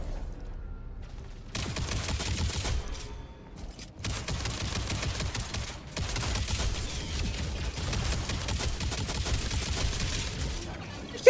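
Rapid gunfire in the video game Modulus, dense continuous bursts of shots running through most of the stretch after a brief quieter start, loud and close with only short gaps between volleys.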